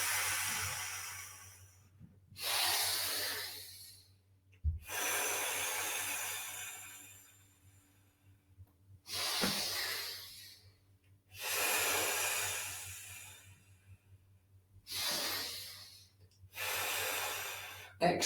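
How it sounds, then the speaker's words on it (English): Deep, slow breaths in and out during a Shiatsu lung-channel stretch, about six long airy inhales and exhales separated by short pauses, close and fairly loud over a faint steady hum. "We're going to breathe in. We're breathing out."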